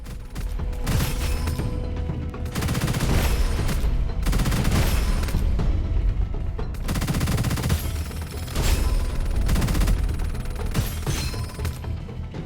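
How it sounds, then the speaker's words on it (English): A rapid-fire sniper Gatling gun in the shooter game Gunfire Reborn, loud, dense bursts of continuous automatic gunfire separated by brief pauses, with no voices over it. "It's a sniper Gatling gun now."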